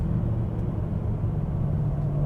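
A rebuilt BMW E92 M3 engine decelerating off throttle, a steady low droning rumble heard from inside the car, continuous and fairly loud with no voices.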